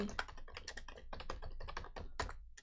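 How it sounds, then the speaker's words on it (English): Rapid, uneven clatter of keys on a computer keyboard, typing in all caps, close and steady for a few seconds with no voices. "Next crossword will be Wednesday, and I'm typing in caps."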